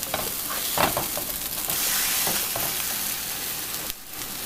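Pancake batter sizzling and frying steadily in a hot pan, a continuous crackle with a few brief scraping touches, no voices.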